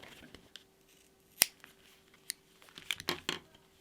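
Scissors snip through water-soluble stabilizer right beside satin embroidery stitching on faux leather, giving a few sharp, close cuts and a quick cluster of crisp snips, with soft crinkling between them and no talk.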